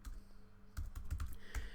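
A short run of close keystrokes on a computer keyboard typing a brief command, about half a dozen quick taps after a moment of quiet, with no talk.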